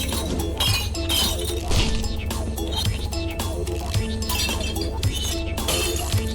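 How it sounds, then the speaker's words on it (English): A crystal smashed in the Viscera Cleanup Detail video game, heard as repeated bright glassy clinks and shattering bursts over a steady low game drone, fairly loud and recurring throughout. "Now I just smashed that one."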